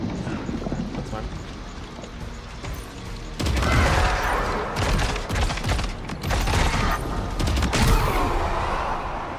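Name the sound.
grenade launcher firing in the video game Death Stranding 2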